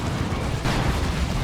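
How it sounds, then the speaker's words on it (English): Grenades detonating on a Dawn of War 2 battlefield during a 3v3 match, a dense rumbling burst that swells sharply halfway through and stays loud and continuous to the end. "Grenades going off there."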